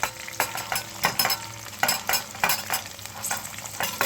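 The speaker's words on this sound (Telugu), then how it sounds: "ఇప్పుడు నేను సన్నగా తరిగి పెట్టుకున్న ఉల్లిపాయలు వేసేస్తాను" Finely chopped onions sizzling in a pan for tomato kurma, a constant fry hiss punctuated by repeated scraping stirs that come in regular rhythmic strokes, close and fairly loud.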